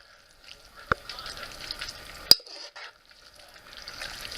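A spoon scraping and stirring through simmering spaghetti sauce in a pot, with bubbling sizzle, a couple of sharp clinks against the metal and wet slurping, fairly close and free of talk.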